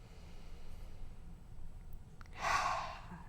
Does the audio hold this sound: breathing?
yes